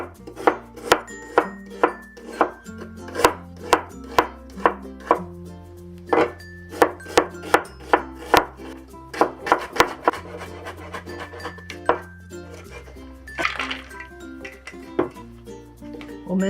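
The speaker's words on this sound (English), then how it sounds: "We'll also give the onion a quick mince." A knife mincing onion on a chopping board, a steady run of quick, crisp knocks against the board, close and clear, with faint low background hum.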